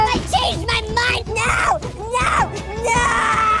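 Fred, a young boy on a bus, screams and wails in long, loud, strained bursts with only brief breaks.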